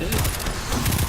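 Pulse rifle fire in Destiny 2, a quick run of rapid bursts heard close and loud with a slower cadence, over a busy game soundscape.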